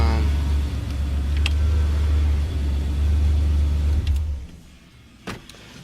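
A Ford Ranger with a 4.0 V6 engine idles steadily up close with a deep, even rumble that cuts off about four seconds in, followed by a few faint clicks.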